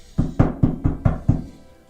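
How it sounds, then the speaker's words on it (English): Six sharp knocks on a door in an even, steady rhythm, each a solid thud with a short decay, close and clear with no voices. "knock on the door."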